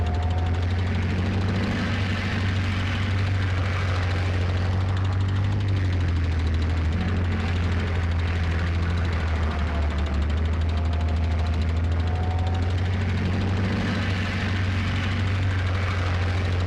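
A helicopter drones close and loud, a continuous low rotor and engine rumble that holds steady for the whole stretch without a break.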